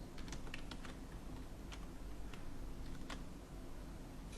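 A computer keyboard clatters as HTML code for a button is typed, with light irregular keystrokes, close but quiet over a steady background hum.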